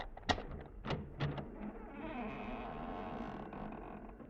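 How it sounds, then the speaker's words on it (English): An old front door hinge creaks in a radio drama, with a few sharp knocks and thumps at first, then a drawn-out squeal as the door swings open, close and clear. "Maybe you heard the hinge squeak a little."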